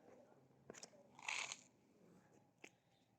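Stray animals crunch dry pet food in a few short, close bursts, with a louder cluster of crunchy bites in the middle and sparse background sound.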